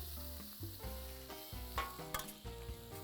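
Shrimp and garlic sizzle steadily in a hot pan while being cooked for tacos, with a dense continuous frying hiss and a few sharper spatters, under a steady musical tone.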